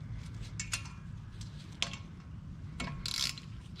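A bolt is threaded by hand into a threaded hole in the front brake rotor of a Subaru Legacy GT, giving quiet, scattered metallic clicks and light scraping ticks, with a brighter rattling burst near the end.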